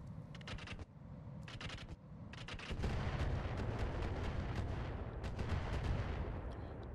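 Heavy weapons fire from battling mechs in RogueTech, a BattleTech strategy game, aimed at a Commando mech: a few short sharp bursts, then a sustained, loud, rumbling barrage of blasts and impacts with no talk.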